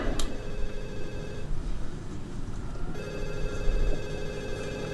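A telephone rings in a Friends sitcom scene, a steady electronic bell-like trill heard in two bursts under a low room hum, with a quieter pause between them and no talking.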